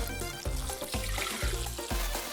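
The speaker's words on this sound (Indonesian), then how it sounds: "Tuangkan." Liquid poured in a steady, continuous stream, a close, full splashing gush that holds at even loudness with faint rhythmic thumps underneath.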